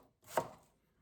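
One soft, muffled chop of a knife slicing through an onion on a cutting board, a brief thud alone in a quiet kitchen.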